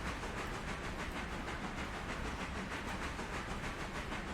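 A Berkshire steam locomotive running in the game Railroader, giving a steady rhythmic chuffing hiss that pulses evenly throughout, fairly quiet and with no talk.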